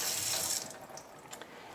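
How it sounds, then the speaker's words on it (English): Water from a tap runs over orchid roots as they are rinsed, a steady splashing stream that is louder at first and then eases into a softer trickle. "And you rinse, rinse, rinse, rinse, rinse until those roots change from white to green."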